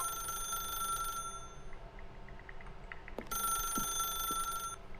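Telephone ringing in the video game The Stanley Parable, two bursts of a bright electronic ring with a quiet gap between them over low background hum.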